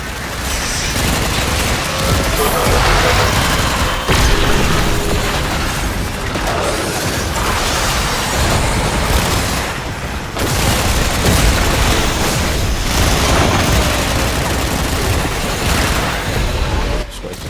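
Dense, continuous gunfire and booming explosions from a Warframe battle, with rapid bursts and heavy blasts layered loudly throughout and brief dips in intensity.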